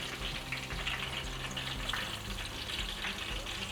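Onions fry in hot oil for chili oil with a steady, bubbling sizzle that stays close and even throughout, with no voices.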